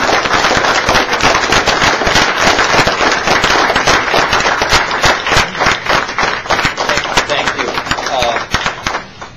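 A room full of people bursts into sustained, loud applause for Mike Copass, newly named leader of San Diego Progressive Democrats of America, the dense clapping steady for several seconds before thinning out at the end.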